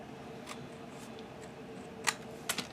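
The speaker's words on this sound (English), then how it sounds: "I'm just going to cut some of this back part away" Scissors snip into fabric while cutting away the back part of a fabric album, producing a few quiet, close clicks and short cuts, the sharpest near the end.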